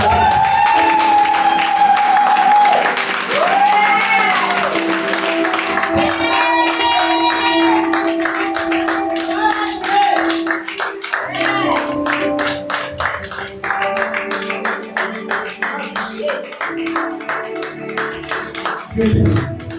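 A church congregation breaks into applause and scattered cheering, with claps building into a dense, loud burst over sustained music.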